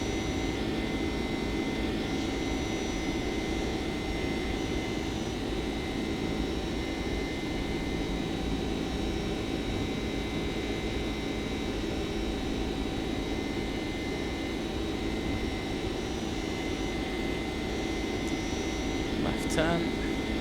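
Jet engines of an American Airlines 767-300ER in X-Plane 11 roar steadily during climb-out from Salt Lake City, a constant broadband rumble with a whining tone that holds for the whole stretch.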